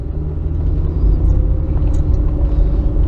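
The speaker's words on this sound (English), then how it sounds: "I'll just drive around the block to show you." A Ford Explorer with a faulty rear wheel speed sensor driving around the block, its engine and road rumble steady and fairly loud from inside the cabin, with no talking.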